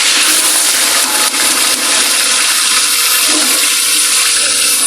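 Chopped onions hit hot ghee at the start of a pulao, giving a loud, steady, close sizzle and hiss that runs unbroken throughout, with no talking.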